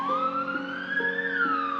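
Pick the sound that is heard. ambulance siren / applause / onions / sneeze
ambulance siren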